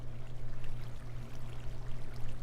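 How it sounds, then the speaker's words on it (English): Flowing water from a waterfall in the Minecraft video game, a steady soft rushing wash with a low hum underneath, continuous and fairly faint, no talking. "It'll create a waterfall"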